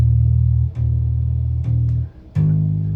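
Bass guitar tuned down a half step, playing a low D sharp that is plucked several times in succession, each note ringing with a deep, clean tone and a sharp attack.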